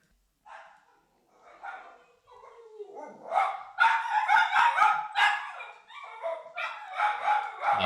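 A house dog barks and yips urgently at someone at the door, a close burst of repeated barks that rises in intensity and then keeps going, with faint human sounds mixed in.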